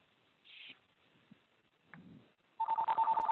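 A phone line rings once from a CallMyDoc callback, a steady electronic ring tone starting near the end after a few faint clicks and a brief tone, fairly loud and alone.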